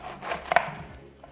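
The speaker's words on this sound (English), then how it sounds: "We'll start with cutting the top of our pineapple." A sharp knife cuts the top off a pineapple, one crisp chopping crunch on a cutting board amid quiet kitchen sounds.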